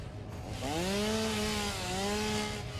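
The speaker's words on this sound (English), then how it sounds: "Chainsaw's pretty fun." A chainsaw in the video game Satisfactory cuts with a loud, steady buzzing whine that rises in pitch, dips briefly, then revs again over continuous noisy grinding.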